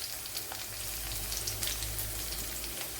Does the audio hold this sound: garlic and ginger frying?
yes